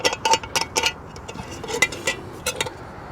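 Metal clinks and taps from the handle of a Trangia Swedish Army cooking pot as it is lifted and set down, a cluster of sharp close rattles followed by a few sparser chinks, with no talk.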